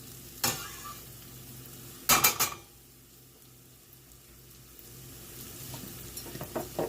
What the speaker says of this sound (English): I'm going to go in with my garlic now and a tiny bit more butter